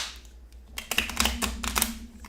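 Bowed board game cards from the Earth board game are shuffled by hand, giving a quick flurry of dry, clattering riffles and taps, close and without talk.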